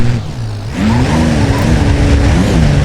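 A Land Rover Defender driven off-road in the BeamNG driving game, its engine droning loudly and steadily, rising in pitch as it accelerates, with some tyre noise and no talking.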